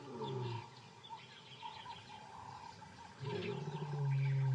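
A male white lion roars in the wild, a deep, distant rumbling call that swells near the end, with birds chirping over it.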